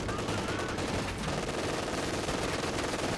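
Sustained Vickers machine gun volley in Company of Heroes 2, a dense, continuous rattle of rapid fire with battle noise layered over it, loud throughout and no break in the burst pattern.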